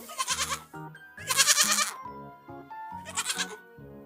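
A sheep bleats in a stop-motion animated Hindi folk tale, three loud wavering bleats separated by short pauses, close and clear with no talking.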